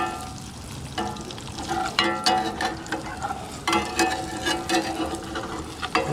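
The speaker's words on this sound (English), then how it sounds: "I'm gonna start flipping these eggs" Eggs fry in a pan and are flipped, giving a continuous crackling sizzle broken by scraping and clattering as the spatula turns them. The sound is close and busy, and no one speaks.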